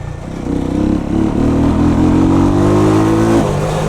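Jamco motorcycle fitted with an Eagle engine accelerating hard, engine note climbing steadily in pitch through the gears, loud and close, then easing off near the end.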